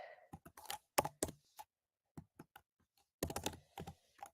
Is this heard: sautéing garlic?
no